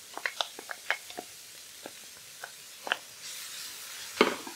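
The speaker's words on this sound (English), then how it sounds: "We add the sauerkraut" Sauerkraut is tipped into a pan of caramelized onions, giving a run of soft wet squelches and light clicks, then a gentle sizzle and a final scrape, close and fairly quiet with no voices.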